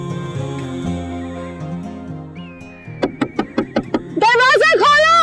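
Rapid sharp knocks on a door, five or six close thuds in a quick row, over background music and followed by a raised voice talking.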